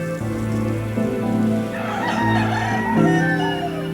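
Prat breed chickens, also called Pota Blava, clucking and crowing together at close range, with overlapping calls and a rooster crow rising through the flock.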